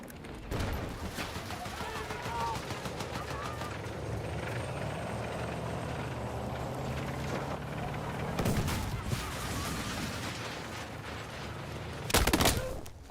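Gunfire in the Battlefield 6 video game, dense bursts of shots and rattling fire over a constant engine-like drone, with a louder close volley near the end.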